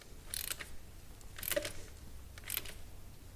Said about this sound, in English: Take my ratchet and socket and continue to seat this down into place.